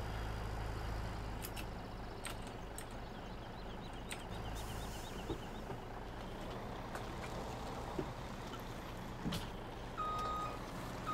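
A logging truck in Farming Simulator 17 rumbles with a low steady engine drone, joined by faint beeps and a few clanks, and no one talks.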